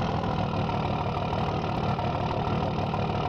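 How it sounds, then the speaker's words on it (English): Dodge truck engine in Farming Simulator 15 running at a steady, dense idle, a continuous loud rumble and hum that holds evenly throughout with no talk over it. "You can tell the engine difference."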